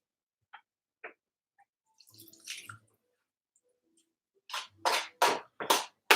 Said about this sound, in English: Put the water in.